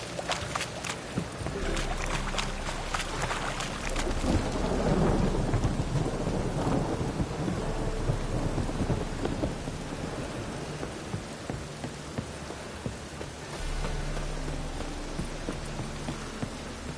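A thunderstorm with heavy rain pouring steadily on surfaces and loud rolling thunder that swells in the first seconds, then a long rumbling tail with a second surge near the end; no voices.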